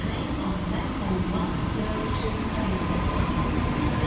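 A Sydney A set train rolls into a Parramatta station platform, a steady broad rumble of wheels and motors close by with a faint squeal, and a voice speaks briefly over it.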